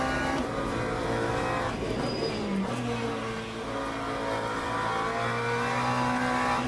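A McLaren 720S Evo race car in the Le Mans Ultimate racing game, engine loud and close as it revs and shifts through gears, a continuous rising and falling whine.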